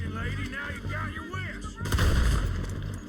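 Gunfire in the video game Red Dead Redemption 2 played on PC, a rapid burst of loud shots followed by a heavier booming volley with echoing crackle, close and dominant.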